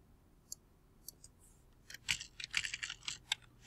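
Someone types a name on a computer keyboard: a few scattered key taps, then a quick, close run of crisp clicks.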